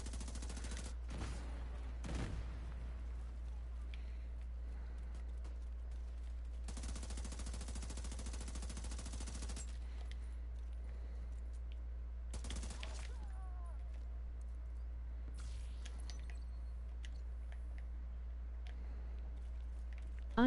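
Bursts of automatic gunfire from The Division 2, a video game, rattle in short and longer sprays over a constant low hum, with quiet gaps between volleys.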